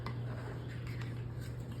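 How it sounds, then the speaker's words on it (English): Seasoned snack crackers being stirred in a bowl with melted butter give a steady soft rustling and scraping, with faint clinks against the bowl, close-up and quiet over a low background hum. "But since we already messed up a bowl, just go ahead and mix it, make it easy."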